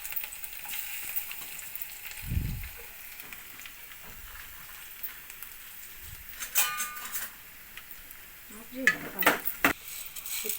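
Dried red chillies fry in oil in a pan, the faint sizzle joined by scattered clinks and scrapes of a spoon stirring against the pan. Soft talk comes and goes underneath.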